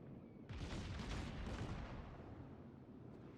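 Big naval guns firing from a New Mexico battleship in World of Warships, a heavy boom opening a dense, rumbling barrage that rolls on loud and close without a break.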